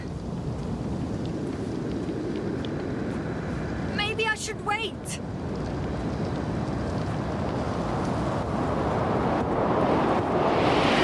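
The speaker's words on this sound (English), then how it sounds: "The storm gets worse." A storm on a hostile alien planet in the game The Invincible roars with heavy, steady rain and wind that builds louder toward the end, broken midway by a crackling burst; a voice speaks briefly over the downpour.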